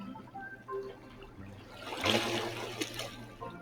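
Water splashing and trickling as a character swims in the video game Critter Cove, a soft continuous wash that swells into a louder burst of splashes midway, then settles into lighter dribbling.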